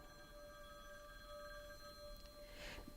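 Telephone ringing steadily throughout in a Jason Statham action film scene, a continuous electronic ring against a dense background of noise, with no voices over it.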